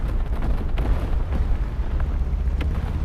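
Bombs bursting in the War Thunder Mobile tank game: a loud, continuous low rumbling roar with heavy deep booms, no voices.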